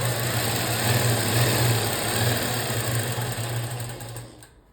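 A sewing machine runs steadily as it stitches a double-folded pleat edge on a kurti, giving a continuous loud whirring hum that fades out at the end.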